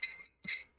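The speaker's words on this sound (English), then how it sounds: "Take out the magnetic stir." A magnetic stir bar clinks against a glass container in two or three brief, bright taps as it is lifted out, close and quiet.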